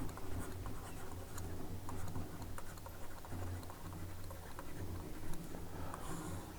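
A pen writes notes on paper in steady, scratchy strokes with small ticking taps, close up against a fairly loud hum.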